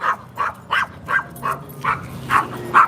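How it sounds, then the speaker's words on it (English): A dog barks in sharp, evenly spaced bursts, about eight barks in three seconds, loud and close, agitated by a passing bus. "Now, hold on, my dog's about to go berserk."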